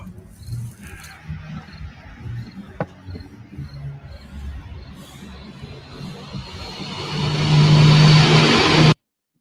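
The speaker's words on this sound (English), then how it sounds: "That was just a City of Toronto bus that was shot in Scarborough out on Kingston Road, and one of the night buses went by" A City of Toronto night bus on Kingston Road in Scarborough, rising from faint street ambience and birds to a loud close engine roar and rumble as it passes, then cutting off abruptly.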